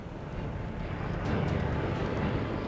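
A search plane drones overhead in the mountains, a broad steady roar that swells slightly toward the middle and holds, with no voices over it.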